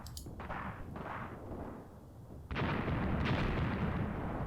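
Artillery fire in the Tank Warfare: Tunisia 1943 video game: a sudden loud, broad rumbling burst of impacts that carries on, over a fainter rumble of battle beforehand.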